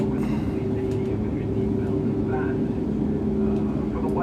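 An ATR72-500 turboprop taxiing in the Prepar3D flight simulator gives a steady, droning engine hum with a constant tonal whine, continuous and fairly loud with no breaks.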